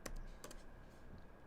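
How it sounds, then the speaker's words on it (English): A few quick keyboard keystrokes, clustered near the start and then tapering off, sound close and faint over a low room hum, with no talking. "You can tell I'm typing"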